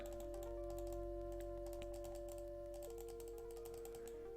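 Clicks from a computer mouse advancing through dialogue in a Rex Nebular adventure game, a quick irregular series of light taps over a steady electronic tone and faint background hum.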